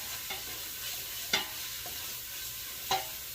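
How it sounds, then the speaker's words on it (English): Bacon frying in a pan for keto clam chowder, a steady close sizzle with a few sharp crackles and pops breaking through the continuous hiss. "Got that bacon going."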